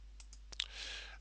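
Computer mouse clicks while a line is drawn on an online map: a few light taps, then a sharp double click, followed by a soft hiss of background noise, all close and quiet.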